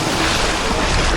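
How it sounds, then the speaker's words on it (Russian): Evening sea waves washing onto a fine sandy beach at a Turkish resort hotel, a dense, loud wash of surf with wind buffeting the microphone, brief and with no voices. "вот иногда и без катера вечерком вот такие волны начинаются"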